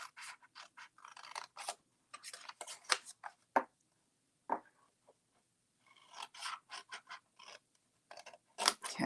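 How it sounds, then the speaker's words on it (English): Scissors snipping through scored cardstock for a folded gift bag, bursts of crisp close cuts and rasping paper sounds separated by brief pauses, no speech. "now we're going to cut up on all of these other intersecting score lines"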